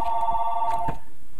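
A telephone rings with a steady electronic trill for about a second and then stops, close and clear with no speech over it.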